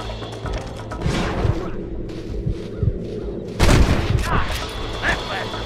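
Gunfire in the Western video game Red Dead Redemption, with several sharp shots in a loose volley and a heavier burst near the end, heard over steady game ambience and voices.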